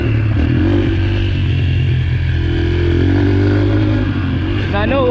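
A 2022 Yamaha TTR 125 LE dirt bike engine drones steadily at a constant pitch while riding, loud and close throughout, with someone talking over it.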